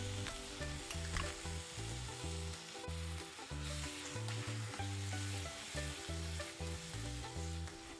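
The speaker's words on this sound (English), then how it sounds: "I'm gonna saute it real good for a couple of minutes" Masala spices and supermarket green peas sautéing in a pan for Indian pav bhaji, a steady close sizzle with repeated scraping and stirring strokes, a low tonal hum running underneath throughout.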